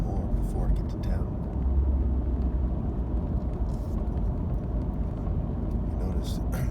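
A single car on a quiet road at night gives a steady low rumble of engine and tyre noise from close by, continuous throughout with no talk.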